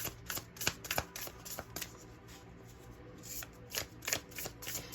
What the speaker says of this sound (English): I'm going to go ahead and get our other cards out